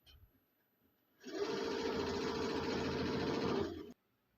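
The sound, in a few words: sewing machine stitching a design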